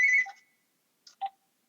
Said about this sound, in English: Phone's ringing.